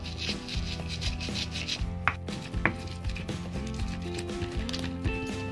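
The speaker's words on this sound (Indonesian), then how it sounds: "Oke, kita ulek dulu ya sampai halus." Spices with a little salt are ground in a mortar and pestle for seblak, a steady rubbing and scraping with a few sharper knocks, close and continuous.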